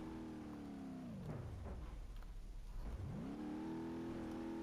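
An off-road buggy's engine in BeamNG.Drive revs hard at full throttle, pitch dropping low and then climbing back up in a loud, continuous, close-up roar.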